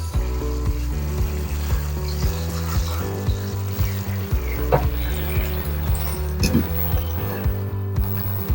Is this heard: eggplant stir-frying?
yes